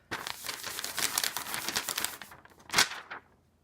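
A hand print sheet being peeled open, a close, papery crinkling and tearing rustle lasting a few seconds, ending in one sharper crackle before quiet.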